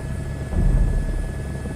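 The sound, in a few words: helicopter landing in VR flight video game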